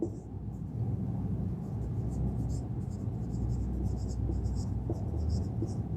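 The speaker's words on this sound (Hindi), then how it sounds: "मैं लिख रहा हूं चलो इस चीज को" Chalk or marker scratches across a board in repeated short strokes while an arithmetic problem is worked out, with a low room rumble underneath.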